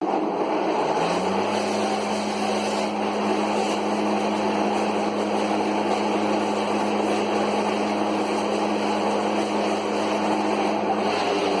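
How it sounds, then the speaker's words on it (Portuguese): A homemade Chinese mini tiller engine digging soil, running as a steady high-pitched drone after a quick rev-up at the start, loud and constant throughout. "Ele liga a máquina, acelera, e ela começa a cavar a terra."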